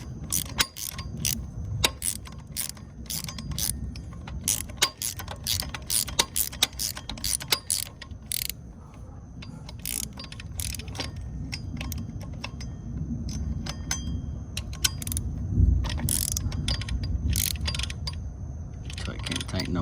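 A winch ratchets in rapid, uneven clicks as a new strap is cranked tight, close and loud, with bursts of clicking continuing throughout and a low mechanical rumble underneath.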